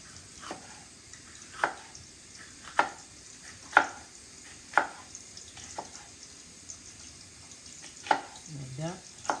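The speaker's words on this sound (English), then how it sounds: "Cutting that up fine." A knife chops a green vegetable finely on a cutting board, about eight to ten sharp, evenly spaced close knocks, with a short soft rustle near the end.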